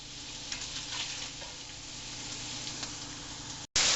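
Pork pieces browning in a hot pan for New Mexico green chile stew, a steady close sizzle and crackle with occasional stirring clicks, broken by a brief cut near the end.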